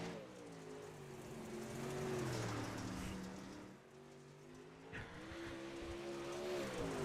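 A World of Outlaws dirt late model, the number 3 car, runs laps at I-55 with a loud, steady engine roar that rises and falls through the corners, plus a brief throttle lift near the middle; there is no talk.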